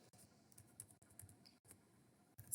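Quiet computer keyboard typing while writing an SQL query, soft rapid key clicks in short irregular bursts, close and faint, with a slightly louder click near the end.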